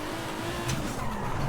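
A 1993 Jaguar XJ220S TWR drifting at speed in Forza Horizon: a steady engine drone with sustained tire squeal sweeping across the whole stretch, loud and continuous with no pauses.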